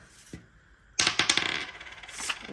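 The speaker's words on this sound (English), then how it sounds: "where's my 3 rolling dice?" Three dice clatter and roll across a hard surface, a sharp burst of rapid clicks and rattles that settles into a few lighter taps, close and fairly loud against a quiet background.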